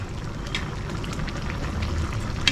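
A pot of chicken ulam boiling on the stove: steady soft bubbling and crackling simmer, close and fairly quiet, with no talking.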